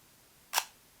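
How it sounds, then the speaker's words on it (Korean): A Leica IIIf Barnack rangefinder camera fires its shutter once, a single crisp, quiet click in a calm room, with the faint start of a second sound at the very end. "그리고 굉장히 안정적인 셔터 사운드가 있어요"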